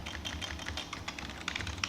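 Quick taps on a computer keyboard come close and clear in an irregular rapid patter of keystrokes, with a few sharper clicks near the end.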